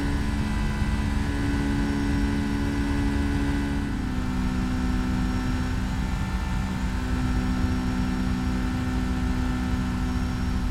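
Steady, loud jet engine roar and whir of a Boeing 757-200 going around in the X-Plane flight simulator game, a continuous drone that shifts slightly in pitch midway, with no talking.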